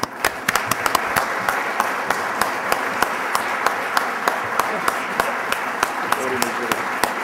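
An audience at the NASBA annual meeting awards presentation in 2011 applauds steadily to welcome a speaker to the podium, a sustained wash of clapping with individual sharp claps standing out.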